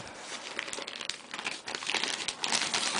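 Bloon Bag protective packaging being torn open by hand, with continuous close crinkling and ripping of plastic material that builds in loudness toward the end.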